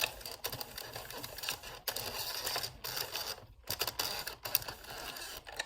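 An Addi Express knitting machine knits a row, giving a close, steady mechanical whirring clatter that runs on for several seconds with a few short breaks between passes.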